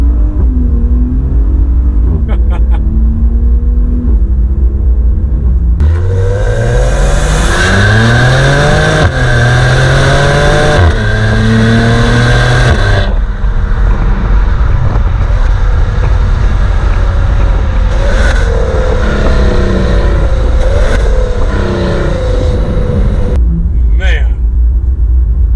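A 2021 Maserati Levante engine revs hard through a downshift and acceleration pull, rising in pitch in several surging climbs, then easing into a steady cruising drone with road rumble. The engine is loud and close, and a voice talks over part of it.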